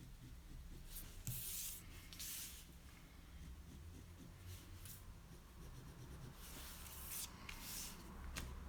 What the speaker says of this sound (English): In the middle, we draw the line where we are going to cut.